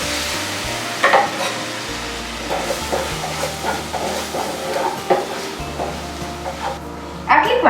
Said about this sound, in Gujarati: આટલી ક્વોન્ટિટીમાં 1 ટેબલસ્પૂન જેટલું ઘી એડ કરતું જવાનું અને લોટને ધીમા તાપે શેકતું જવાનું છે